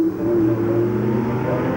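A Porsche 911 Carrera engine hums steadily on a racetrack, a short, moderately loud tonal drone with a slowly shifting pitch.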